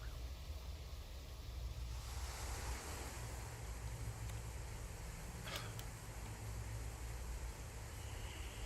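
Sea waves and wind wash past steadily while sailing across the open sea in the video game Guild Wars: Reforged, a continuous broad roar with no voices.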